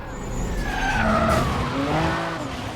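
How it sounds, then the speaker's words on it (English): A car drifts through a corner in a Need for Speed racing game, tires squealing in long rising and falling whines over a steady engine roar, sustained and fairly loud throughout. "Oh, look at that drift."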